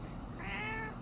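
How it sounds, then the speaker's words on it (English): A house cat gives one drawn-out meow asking for dinner, rising and falling over a constant low room hum, close and moderately loud. "My cat thinks it's time for dinner."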